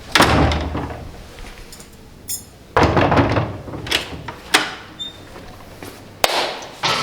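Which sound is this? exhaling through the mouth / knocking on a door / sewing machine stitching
knocking on a door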